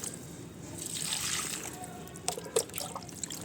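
Water poured at the base of garden plants in a cool early morning, a soft steady trickle and splash running close by, with a few sharper drips and splashes near the end.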